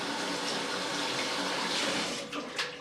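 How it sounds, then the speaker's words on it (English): A tap runs in a steady, unbroken stream while hands are washed beneath it. The rushing water stays close and even, with slight splashing changes near the end. "we wash our hands."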